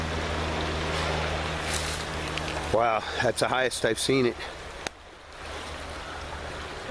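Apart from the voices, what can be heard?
flooded stream flowing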